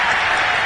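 Stadium crowd at an NFL game roaring after a touchdown, a dense, loud wash of cheering and applause that holds steady throughout.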